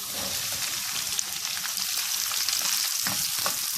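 Onions go into a pan of lightly sautéed ginger and garlic and fry with a loud, steady hiss and crackle, close up, with no voices.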